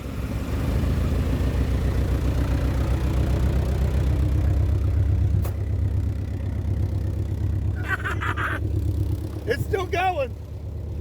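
A car engine idles steadily and loudly while the vehicle sits stuck, a low continuous rumble with a brief click and a few clattering sounds near the end, under a person talking.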